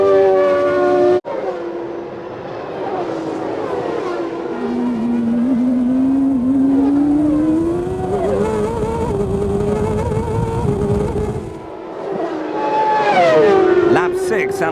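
Formula 1 cars race with Berger's car leading and Schumacher's Benetton tucked close behind, engines wailing and shifting pitch as they pass, under continuous commentary talk.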